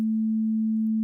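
A pure 220 hertz sine test tone, one steady unbroken hum of even loudness lasting about a second, alone with no other sound.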